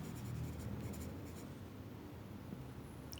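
Chalk or marker writing on a classroom board, a quiet continuous scratching and tapping of strokes, faint and steady with a few light clicks and no voices.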